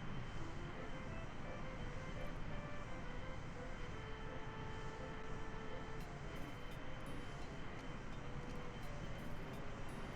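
A Kerbal Space Program aircraft taking off from the runway, a faint, steady engine drone with a broad rushing noise, continuous and unchanging throughout.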